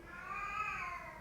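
Pet cat Evi, a female, lets out one drawn-out meow, a steady tonal cry that stays moderately loud and close, with no talk over it.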